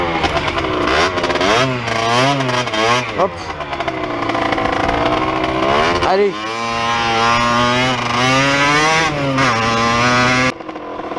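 A KTM EXC-F 250 enduro motorcycle pulls hard in first gear, close and loud, its four-stroke engine revving up and dropping in repeated surges with a long sustained climb, while a rider calls out briefly.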